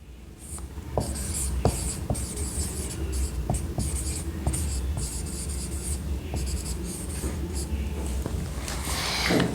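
Joule's law being written out by hand on paper: a steady scratching of pen strokes with short pauses between words, close and clear, and no voice over it.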